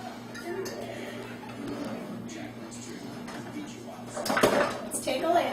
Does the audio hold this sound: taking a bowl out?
yes